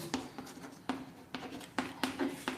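Chalk or a marker moves across a board as a definition is written out, giving a series of short scratchy strokes and taps in an irregular rhythm, close and fairly quiet.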